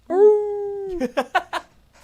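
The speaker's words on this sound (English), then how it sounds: "You're howling with the Wolves" A wolf-like howl rings out loud and close, one long steady drawn-out note followed by four quick yelping bursts, then fading to quiet.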